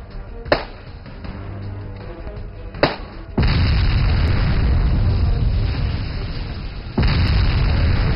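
Leading tank firing its main gun during an attack with infantry: two heavy booms under a steady rumble, then a louder sustained roar with another blast near the end.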